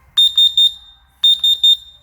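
A carbon monoxide alarm, kept beside a heater for winter camping, sounds two sets of three sharp, loud, high beeps with a short pause between the sets.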